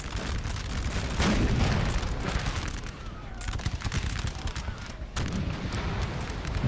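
Massed artillery and musket fire in a Napoleon: Total War battle, dense rolling booms and crackling volleys overlapping continuously, loud and chaotic with several heavier blasts standing out.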